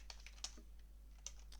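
Quick typing on a computer keyboard to enter game chat, light close clicks in an uneven run with a few sharper taps, quiet and without any voice.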